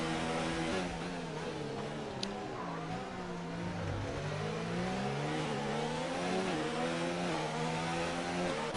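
Racing cars, a Ferrari among them, sweep through the chicane of turns 10 and 11 at the Hungary round, engines loud and continuous with pitch falling on braking and climbing again under acceleration, nearby and without talk.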